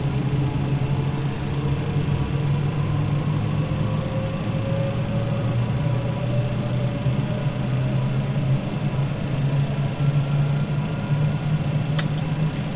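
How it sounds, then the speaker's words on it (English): MD-11F freighter jet engines running steadily after start in Microsoft Flight Simulator 2020, a constant low drone with a faint rising whine and a brief click near the end, no voices. "we have a good engine start on all our engines"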